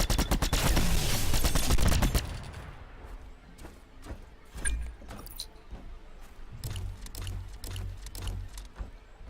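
Bursts of rapid gunfire while shooting shielded enemies in the video game The Signal From Tolva, a loud dense volley at first, then scattered sharper shots and thuds trailing off.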